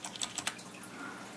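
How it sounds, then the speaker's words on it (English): A few sharp plastic clicks and snaps as a keycap is pulled off a Corsair Vengeance K60 mechanical keyboard with red switches, close up, then a soft low rustle. "I'm going to change the one key. Take that out."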